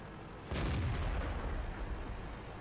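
A single heavy tank gun in World of Tanks fires in one sharp, loud boom that decays into a rumbling tail over the following two seconds.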